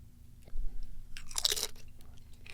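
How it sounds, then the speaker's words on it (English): A single Doritos chip is bitten and chewed close to a microphone, giving crisp, loud crunches that fade into softer chewing. "Can he chew in the microphone?"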